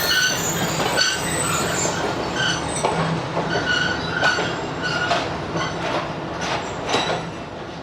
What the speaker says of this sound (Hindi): समोसट्टा पर मुख्तसर सा रुकने के बाद अब ट्रेन रवाना हो गई है